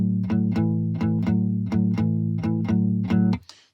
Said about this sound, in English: I'm playing the open A string, as that's our chord that we're basing it on.